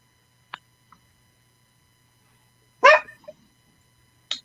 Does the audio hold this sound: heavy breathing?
no